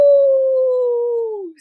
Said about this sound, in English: there was a terrible howl coming from outside